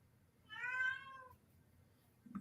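A cat gives one clear, fairly faint meow, followed by a soft thud near the end against a quiet background.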